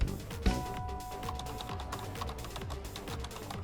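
Someone types hard and fast on a computer keyboard, producing rapid, sharp clacking keystrokes in a dense irregular stream, close and clear, opened by one heavier strike.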